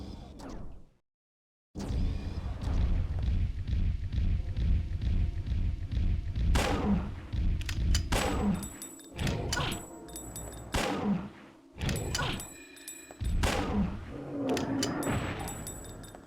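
Slag rounds fire in the video game Dino Crisis as a series of heavy, booming shots with thuds and whooshes, separated by short pauses, loud and close, after a brief silence at the start.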